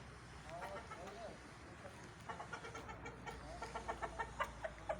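Chickens of several breeds on a poultry farm cluck in quick, faint, repeated bursts that grow more rhythmic toward the end, with someone talking in the background.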